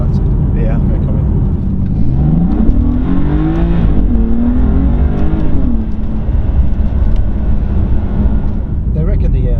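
BMW M4 engine droning and revving from inside the cabin, a steady loud hum with rising pitch sweeps while two people talk over it.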